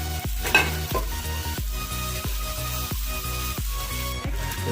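A spoon stirs chicken chilli with chopped capsicum, green chili and tomato in a hot pan. Regular scraping strokes about every two-thirds of a second ride over a steady sizzle, close up, with no talking.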